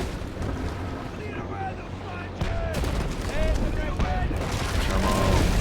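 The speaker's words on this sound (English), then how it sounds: "Oh, he's shooting us at point blank." Naval Action sea battle with ship cannon fire at point-blank range, booming shots over constant wind and sea noise, with someone talking throughout.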